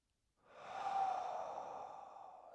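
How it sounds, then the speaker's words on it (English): A single long, breathy exhale pushed out through the mouth during a yoga cool-down, rising quickly and fading slowly over about two seconds, close and alone. "Big exhale through the mouth"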